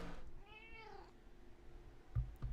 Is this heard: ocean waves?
no